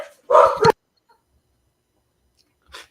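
A single dog gives one short, loud double bark up close, then a faint distant yip after a long silence.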